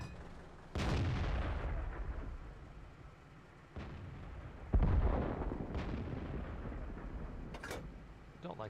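Tank cannon shots in a StuG IV tank video game, loud booming blasts striking at irregular intervals over a steady rumbling battlefield background.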